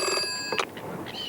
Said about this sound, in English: when the phone rang